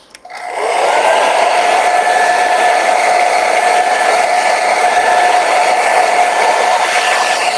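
A hair dryer blows steadily over a watercolor painting to dry it, a loud, even whirring drone that starts abruptly and runs unbroken to the end, with no talking.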